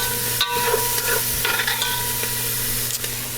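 Vegetables for a fall soup tossed in a hot pan with a little salt, giving a steady close sizzle with scraping stir strokes and a few soft clatters throughout.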